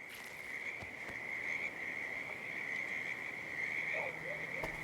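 Frogs croaking near a creek in the Hitman game level set in Whittleton Creek, USA, with a steady high insect-like trill over a low ambient bed and a couple of faint croaks late, quiet and without speech.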